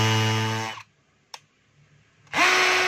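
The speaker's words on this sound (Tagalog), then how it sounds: "I-testing po natin yung hammer." A power drill set to hammer mode runs loud and steady, stops for about a second and a half with a faint click in the gap, then starts up again at full volume.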